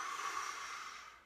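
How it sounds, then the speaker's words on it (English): A single deep breath taken during a guided meditation, a soft, close airy exhale that fades out over about a second. "let's take a deep breath together"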